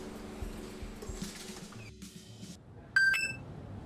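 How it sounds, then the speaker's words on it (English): A phone notification chime in the DnDating Sim game rings out as a short, bright tonal ding with a quick follow-up note, sounding clearly over a soft, murky game background. "As I find my way to the hangar, my phone dings with an email from the school administration"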